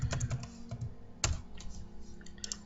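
Typing on a computer keyboard: a quiet, close series of irregular key clicks and taps, some quick clusters and a few louder single strokes, with no talking.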